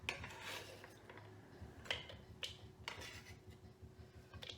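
A knife chops carrots on a board for enchiladas, sharp, evenly spaced knocks close up against a quiet kitchen background with a faint steady hum.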